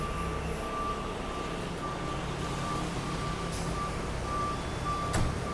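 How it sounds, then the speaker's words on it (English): Reversing beeps from a lorry at a building site where a small digger is being loaded, repeating steadily over a constant engine rumble and general site noise, with a brief clank near the end. "I think this little digger thing is probably going on the back of this lorry"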